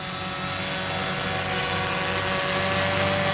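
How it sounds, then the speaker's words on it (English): A small drone hovers in one spot in loiter mode, giving off a steady, continuous buzzing whine with a high tonal edge that holds constant throughout, with no voices. "there's my drone flying"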